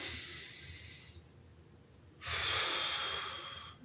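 Steady breathing during a morning mobility exercise session: a long soft exhale, a quiet pause, then a louder, rushing breath, close and alone with no talking.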